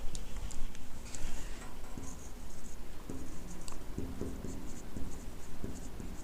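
A teacher writes notes on a board during a biology class, producing a run of scratchy, tapping strokes close by, with small bursts and pauses between them.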